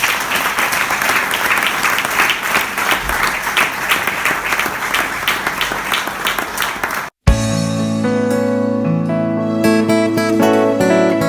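A church congregation bursts into loud sustained applause and cheering for several seconds, then it cuts abruptly to music.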